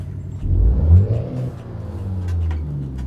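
A truck engine in American Truck Simulator revs up and eases back, a low throaty rumble swelling briefly then settling into a steady idle-like drone.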